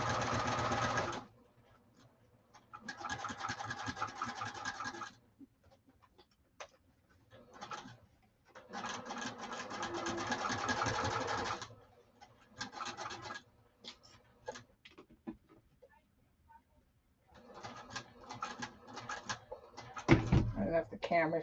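A sewing machine stitching a saddlebag lining at stitch length 3, running in several long bursts with pauses between, a steady close mechanical whir, and the speaker talks in the pauses.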